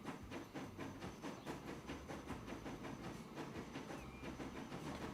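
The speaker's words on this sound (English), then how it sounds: "The passenger trains make some decent speed, I guess." Passenger trains running in the game Transport Fever 2, a steady rolling rumble with rhythmic clickety-clack and a faint hiss, continuous and moderately loud with no voices.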